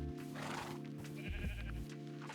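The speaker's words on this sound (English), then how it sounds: "Hi, Mr. Sheep." A sheep in the Minecraft video game bleats in a wavering, nasal cry lasting over a second, close and clear over soft background game music, with no talk.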